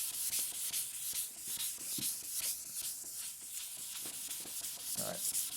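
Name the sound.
power tool sanding a finish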